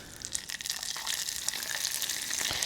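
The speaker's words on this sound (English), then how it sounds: "with the caramel off the heat, we have two things to do, and that is add our butter. This is gonna make it spit." Hot caramel off the heat hissing and spitting as butter is added, a steady crackling sizzle with scattered sharp pops, moderately close and without talk.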